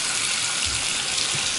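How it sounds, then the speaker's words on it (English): Strong, steady water pressure from a sink faucet, a constant close hiss and gush of running water with no talking. "there's the sink. Also beautiful water pressure."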